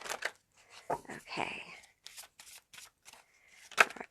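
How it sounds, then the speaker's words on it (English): A deck of pick-a-card reading cards being shuffled: several quick riffling bursts, close and crisp, with brief pauses and a short spoken word. "We're going to shuffle it a couple more times"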